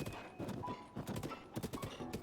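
Horse hooves clip-clop in an irregular trotting rhythm in the game Breath of the Wild, with a few soft thunks, fairly close, without talk.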